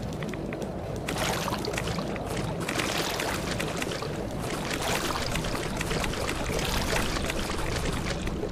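Steady pouring, splashing water runs without a break while water is collected in Fallout 76. The sound is loud and close, with no voices.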